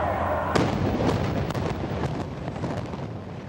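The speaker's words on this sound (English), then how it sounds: "take a look at the implosion of that 14-story building, what was 535 South Kansas Avenue" Implosion of a 14-story building at 535 South Kansas Avenue: a sudden sharp blast followed by a rolling series of booms and rumbling collapse, heard from a distance outdoors.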